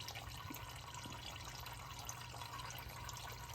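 Engine oil draining into a drain pan during an oil change, a faint, continuous trickling stream that runs steadily without pause.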